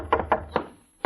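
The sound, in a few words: knock at the door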